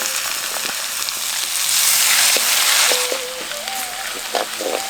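Mustard seeds, curry leaves and crushed garlic fry in hot sesame oil with a loud, close, crackling sizzle that swells in the middle, with light stirring taps and a faint voice.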